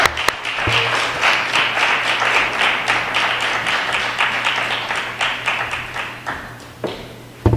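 An audience applauds to welcome a speaker at a lecture on the origins of the precautionary principle, with dense, sustained clapping that starts sharply, holds steady, and tapers near the end.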